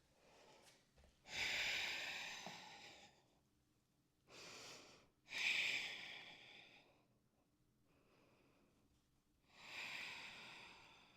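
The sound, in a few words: exhaling breath during yoga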